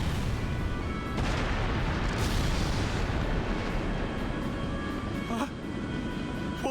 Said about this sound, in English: Where did those shots come from?